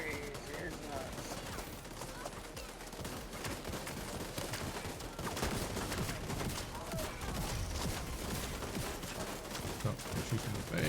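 Rapid bursts of video game gunfire crackle densely throughout, layered shots overlapping in a busy firefight, with players talking over the shooting.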